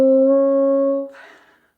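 Bassoon held on a single sustained tone with a loose embouchure, sagging flat near C sharp, then briefly breaking into a rougher different note as it fades out, played alone and close.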